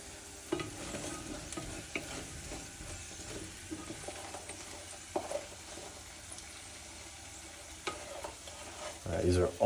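Potatoes for patatas bravas frying toward golden brown, a low steady sizzle with scattered stirring clatters and a louder burst of pan activity near the end, no talking.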